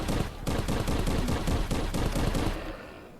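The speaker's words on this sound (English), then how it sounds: "Don't let him shoot you." Gunfire rattles in the Crashland VR video game on nightmare mode, with a dense, loud burst of rapid shots going on for about three seconds before trailing off.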